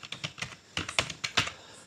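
Fingers typing on a computer keyboard, a brisk series of close, sharp key clicks in two short bursts separated by a tiny pause, with no talking.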